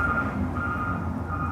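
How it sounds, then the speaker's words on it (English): A truck reverses along a street with steady, loud backup beeps repeating in a regular rhythm over a low engine rumble, close by. "they just went down the whole street and then they backed all the way up the street"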